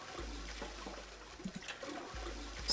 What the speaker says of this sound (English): Heard loud flushing noises